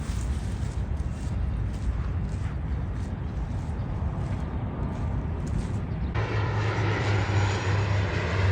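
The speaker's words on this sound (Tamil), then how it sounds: "சிங்கப்பூர் ஏர்லைன்ஸ்லாம் வந்து லேண்ட் பண்ணுது பாருங்கள்" A Singapore Airlines passenger jet lands at an airport, its engines a steady, loud roar that fills the whole stretch with no break, the low rumble deepening toward the end. No one speaks.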